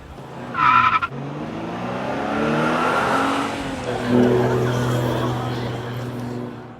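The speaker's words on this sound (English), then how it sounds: "So it says I can ride it, so I'm gonna try to ride it." A worn rental electric scooter with flat tires rides along, its motor whining in a rising and falling tone over road rumble, with a brief squeal near the start.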